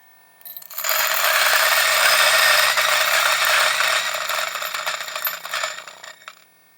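A Turin DF64v or CF64v coffee grinder at max RPM crushes a few coffee beans on espresso setting 15 for a 58 mm portafilter, a loud gritty crackling grind of about five seconds that thins and stops, with no talking.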